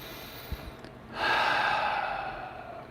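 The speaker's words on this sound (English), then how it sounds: "And we take a big deep breath." One big, deep breath is drawn in and slowly released, near and breathy, with a short sniff just before it.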